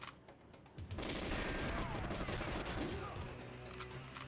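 Sustained gunfire and explosive bursts from the N64 game Goldeneye 007 on a train level, a dense continuous roar of shots at moderate level with faint talk underneath.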